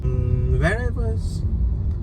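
Steady low rumble of a car moving through traffic, heard from inside the cabin, with a brief voice-like tone in the middle and a short hiss near the end.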